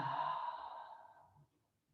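A long, deep exhale during a yoga stretch, one slow breath out that is strongest at the start and fades steadily over about a second and a half into near silence. It is close and soft, and nobody speaks.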